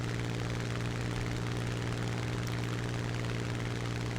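A Spitfire Mk IX piston engine in War Thunder drones in a loud, steady roar with a constant low propeller hum, unbroken and without talking.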